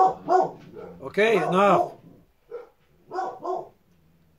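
Several dogs bark in sharp, loud bursts close by, a cluster of yips and woofs followed by a couple more barks, while someone talks over and between them.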